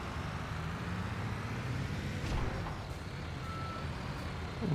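Reversing beeps from a truck backing under a quarry hopper in Construction Simulator, set against a steady, loud engine rumble. A faint tonal beep appears only briefly, and no one speaks.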